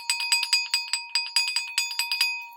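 Metal bells struck with mallets in a roll on B flat, rapid bright ringing strikes close up, each tone sustaining and overlapping the next.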